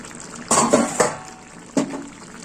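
A lid clatters onto a metal pan of dahi sabji on the stove, a few sharp clinks and knocks spread over a couple of seconds, then a final settling tap, with soft sizzling underneath.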